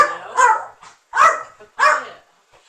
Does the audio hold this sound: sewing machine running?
no